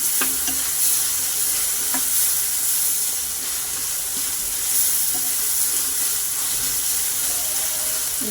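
Curry leaves fry in a pan while crab curry is cooked, giving a steady broadband sizzle with occasional stirring clicks and scrapes, moderately loud and continuous, with no talk.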